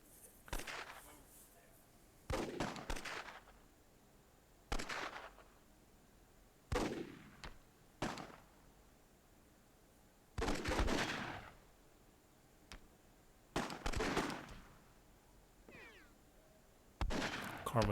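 In the Myth II Soulblighter video game, gunfire comes as a string of sharp, separate reports spread over several seconds, some single shots and some quick doubles, each cracking loudly above a quiet background.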